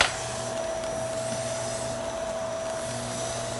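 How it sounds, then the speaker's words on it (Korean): A vacuum cleaner sucks up baking soda that was spread on a carpet and left for 30 minutes to an hour. It makes a steady, loud whirring drone with a constant whine that runs unbroken from start to finish, and no one speaks. "자. 진공 청소기로."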